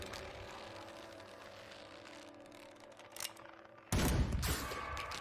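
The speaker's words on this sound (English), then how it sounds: "It is insanely hard to hit a rope with a gun like that" A single sharp gunshot aimed at a rope in Grim Dawn rings out loudly after a stretch of ambient game sound and music, with its echo trailing off.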